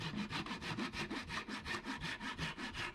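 Hand saw cutting a piece of wood free for a mechanical wood sculpture, a quiet, close, rhythmic rasp of rapid back-and-forth strokes, about six per second, steady and alone.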